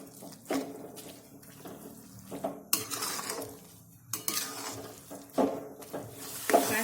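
A spoon scraping and clattering in a pan while carrot halwa is stirred with ghee and milk solids, giving repeated uneven metallic scrapes and knocks at moderate loudness with no voices.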